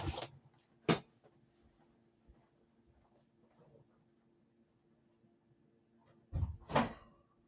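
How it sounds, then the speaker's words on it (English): A door is shut twice inside a house, each time a sharp wooden knock or thud, one early and one near the end, with quiet room tone between the two. "Wow, the door is shut."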